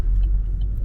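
A car rolls past on a residential street in the UK, a low steady engine rumble close by throughout, with no talking over it.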